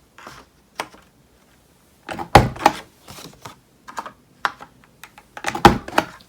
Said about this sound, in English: Now I'm going to turn my envelope punch board so that I can round the corners here